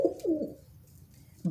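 A pet bird, a pigeon or dove, gives two soft, low coos close by, and a third coo starts right at the end. Between the coos there is only quiet room sound and nobody talks.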